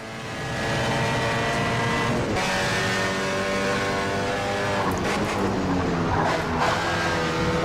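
Race car engine in the rFactor 2 sim racing game drones loudly and steadily, its harmonics holding and shifting pitch with brief dips around two and five seconds, close and continuous with no talk.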